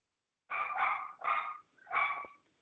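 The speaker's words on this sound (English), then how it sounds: "if someone has a pup in the background and wouldn't mind muting themselves" A dog barks in the background of a community meeting call, a few clear barks in a short burst, alone with no talk over them.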